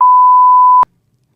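A single loud, steady pure-tone censor bleep covers a spoken name for just under a second, then stops abruptly and leaves near silence.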